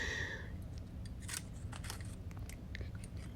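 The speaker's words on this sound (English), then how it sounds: "And I love punching the confetti." A hand punch punches out paper and vellum confetti, giving a string of close, crisp, crunchy snips in an irregular rhythm over a steady low background.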